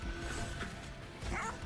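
Bone Dogs barking in the video game Monster Train 2, short bursts of yaps and whimpers layered over dense game music and effects.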